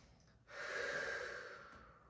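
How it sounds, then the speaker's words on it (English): A single long, breathy exhalation during a hypopressive yoga exercise, close and fairly soft, swelling quickly and then tapering over about a second and a half with no talking. "Inhale. Forward, exhale, back inhale, forward, exhale."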